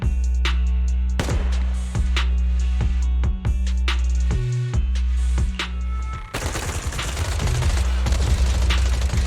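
Rapid bursts of automatic gunfire in the video game Zenless Zone Zero crackle in repeated volleys, close and loud, giving way to a denser, noisier wash of shots near the end.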